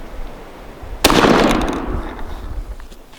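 A single sharp, loud blast from a Remington 870 youth 20 gauge shotgun firing Apex number 8 TSS shot, the report rolling away outdoors into a fading echo.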